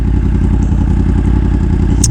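Yamaha R1M sport motorcycle, freshly dyno-tuned, idling close by with a steady rapid low-pitched pulsing and slight mechanical clatter, continuous and fairly loud.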